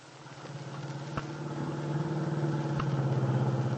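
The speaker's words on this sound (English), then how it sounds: "Dell Shipley, with Aunt Mary on the seat beside her, is driving her car toward the Lane Farm on Willow Road." A 1940s radio drama car engine hums steadily as the vehicle drives along a country road toward a farm, a low mid-pitched drone that slowly swells louder, with two brief knocks partway through.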